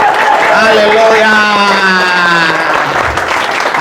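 A church congregation cheers and applauds for Jesus in a dense, loud wall of clapping and shouting, while a preacher's voice rings out over the crowd.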